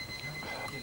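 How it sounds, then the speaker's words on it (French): An alarm clock rings in a brief, steady electronic tone with sharp upper pitches, moderately loud over a soft room background. "Il y a un réveil qui est en train de sonner."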